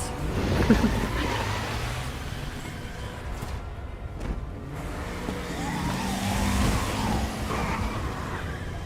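A car in Resident Evil 2 Remake pulls away, its engine revving and tires squealing as it accelerates, then rumbling onward with rising and falling engine pitch amid game ambience.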